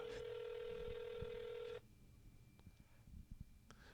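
A telephone number being dialed on speakerphone: a steady, loud tone holds for almost two seconds and then cuts off, leaving quiet room noise with a few faint clicks.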